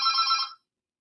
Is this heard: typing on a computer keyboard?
no